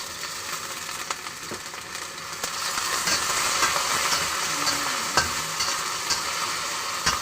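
Chicken hitting a hot pan of sautéing garlic and onion sets off a loud, continuous close-up sizzle that swells and thickens after a couple of seconds, with no voices.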